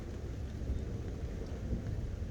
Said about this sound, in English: It's literally raining all the way underneath the roof.